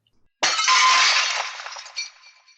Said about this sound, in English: Clair crashes through the window, knocking the killer off balance